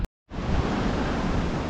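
Illilouette Creek in Yosemite runs high, a steady, loud roar of rushing water that fills the air after a brief silence, close by and continuous.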